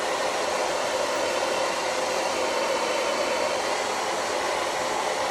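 A hair dryer dries a Dollar General wreath being made over, a loud, even, unbroken blowing roar held close throughout.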